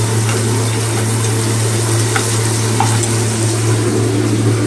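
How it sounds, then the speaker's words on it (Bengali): Vegetables fry in a hot pan with soy sauce and salt for a rohu fish dish, a steady close sizzle with occasional light stirring scrapes over a constant low hum. "এখন আমি এইগুলোকেই ফ্রাই করে নিচ্ছি।"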